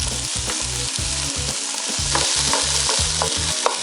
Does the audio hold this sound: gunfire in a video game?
no